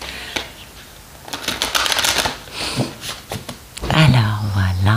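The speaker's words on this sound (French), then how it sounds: "j'arrive pas à battre les cartes" A deck of tarot cards being shuffled by hand, a quick run of crisp riffling flicks and slaps, close up, followed by a person starting to speak near the end.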